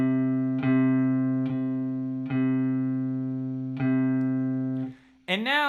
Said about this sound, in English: Take your middle finger and press down on the 3rd fret, and see if you can get the C note to come out